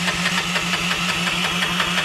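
Small engine in a mini 4x4 running rough and uneven, with a suspected carburetor fault, chugging steadily with a pulsing knock-like rhythm, close and fairly loud throughout, no voices.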